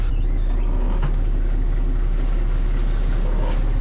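A tractor crawling in first gear on a slope during a cabbage harvest gives off a loud, steady engine rumble with a constant low drone and no breaks.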